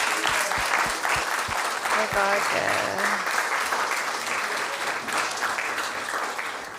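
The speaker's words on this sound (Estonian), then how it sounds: "Ja, plaksuda!" A church congregation claps together in sustained, loud applause that fills the room, with voices and a few cheers mixed in, holding steady before easing slightly at the end.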